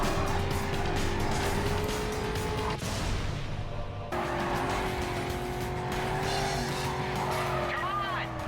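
Car in Need for Speed Carbon drifting at around 140 miles per hour: a loud, sustained engine roar with tire squeal, a brief dip in the middle, then renewed screeching and skidding while a voice talks over it.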